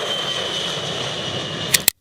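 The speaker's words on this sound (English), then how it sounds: "TF-33 turbofan engine" A B-52H bomber's TF-33 turbofan jet engines roar with a broad steady rushing drone and a high whine, ending in two sharp clicks before cutting out.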